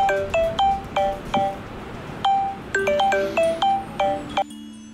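A phone rings with a repeating electronic melody of short bright tones, two bursts of the pattern, before a click and a steady low dial-like hum.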